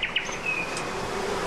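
Honeybees buzz around an opened beehive, a faint steady hum with a few brief higher buzzes from single bees flying near.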